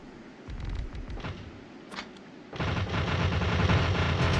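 Gun turrets in the video game Factorio firing at enemies, a low rumbling burst of rapid shots that swells into a loud, continuous barrage by the end.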